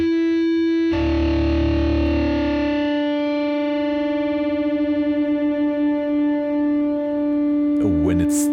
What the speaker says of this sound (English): the low E string, tune it down. And to make it more obvious for you to hear, I enhance the distortion.